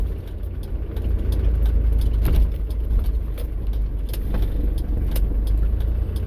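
An electric vehicle drives through the streets of Napier, New Zealand, its batteries around 350 amps, giving a steady, close cabin rumble of road and tyre noise with faint intermittent ticks throughout.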